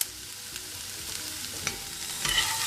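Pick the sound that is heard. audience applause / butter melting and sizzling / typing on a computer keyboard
butter melting and sizzling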